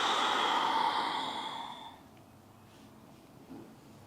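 Slow, airy exhale during a yin yoga breathing practice, a soft breathy rush close to the microphone that fades out over about two seconds into quiet.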